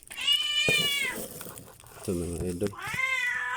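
A pet cat meows loudly and close several times, with drawn-out calls at the start and end and someone speaking briefly between them.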